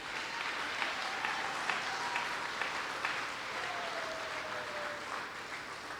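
A church congregation applauding steadily, a sustained wash of clapping from a crowd filling the room, with faint voices underneath.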